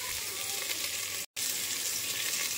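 Potato and pumpkin sizzle steadily as they fry and are stirred in a pan, a continuous close crackle with one very brief silent gap midway.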